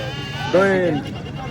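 White goat bleating at a livestock market in Attock, one wavering mid-pitched bleat close by, heard over background market chatter and voices.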